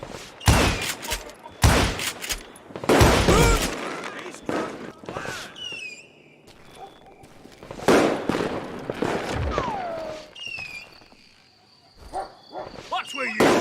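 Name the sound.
gunfire in a video game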